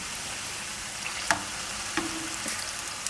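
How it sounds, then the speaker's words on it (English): Tortilla pieces frying in hot oil in a pan for buñuelos, a constant close sizzle with a few clicks and knocks as the pieces are flipped with tongs, no talking. "put 4 tortilla pieces into the pan"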